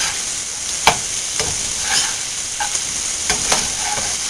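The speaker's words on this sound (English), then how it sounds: "looks like our meat is almost about done browning" Meat browns in a pan in a home kitchen, a steady close sizzle and hiss broken by a few sharp scrapes and clinks from stirring.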